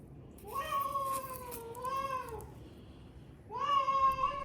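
Zoe, a pet cat, gives two drawn-out meows close by, the first long and wavering, a pause, then a second rising meow, in an otherwise quiet room.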